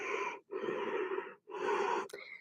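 Two long breaths, each close and clearly audible with a rough, airy edge, during a yoga forward fold, separated by a brief pause and trailing off at the end.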